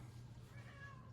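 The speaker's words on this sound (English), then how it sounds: "My cat is complaining." A pet cat lets out a brief, faint complaining meow indoors, somewhat distant, over a constant low hum.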